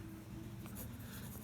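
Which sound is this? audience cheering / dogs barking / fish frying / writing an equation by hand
writing an equation by hand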